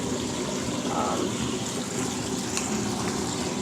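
Water runs steadily into a bathtub where a crushed Lush Sunny Side bubble bar is dissolving, a continuous close rushing and splashing with no talk.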